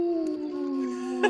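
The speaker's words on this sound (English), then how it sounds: "The wolf howl for that." A single long wolf howl sound effect, loud and close, a steady high wavering tone that slowly slides downward with a brief noisy burst near the end.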